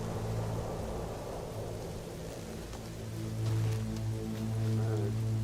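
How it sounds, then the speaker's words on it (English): A thunderstorm in the video game No Man's Sky, with steady heavy rain hissing and low thunder rumbling that swells louder toward the end, and no talk over it. "Incoming storm."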